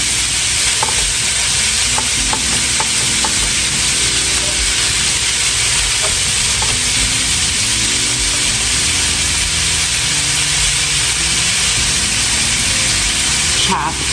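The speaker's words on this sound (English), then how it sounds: "And we're gonna go ahead and brown this." Ground meat browning in a pan for a volcano taco salad, a steady loud sizzle and hiss that continues throughout with faint scraping of stirring.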